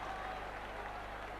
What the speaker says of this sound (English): Oh, the Leeds crowd, they're roaring now.